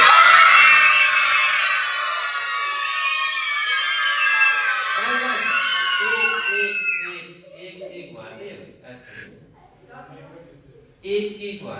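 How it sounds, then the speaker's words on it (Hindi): A group of girls screams together on cue at a yoga session, a loud, sustained high-pitched shriek lasting several seconds that fades out, followed by scattered voices and chatter. "एक चीख मारनी है।"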